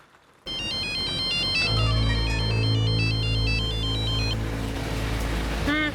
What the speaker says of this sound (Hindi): अपनी मोना डार्लिंग को फोन लगा और अगर बंद आया ना तो देखना।